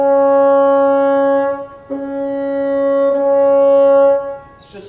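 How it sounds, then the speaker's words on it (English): A bassoon sustains a C sharp played with full fingering, a steady reedy tone held alone, with a brief break and re-articulation midway before fading. "I like to highlight the C sharp specifically, the full fingering in the middle there"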